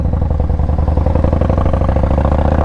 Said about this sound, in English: This bike sounds amazing too. I got the baffles on it.